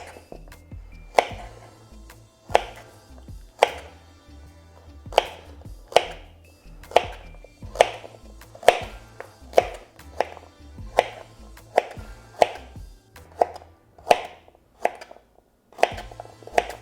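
A knife chops carrots on a cutting board in steady, evenly spaced sharp thunks, about one per second, close and crisp, with quiet gaps between strokes.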